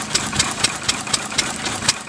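An Anderson 2.5 horsepower dairy farmers oil engine runs at a steam fair, chugging with a slow, even beat of sharp knocks about four per second, nearby and alone.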